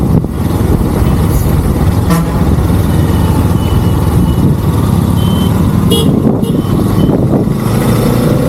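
A heavy-load puller truck with many tyres rumbles along Highway 44 in dense, continuous road noise, with a horn toot and brief beeps cutting through the steady traffic roar.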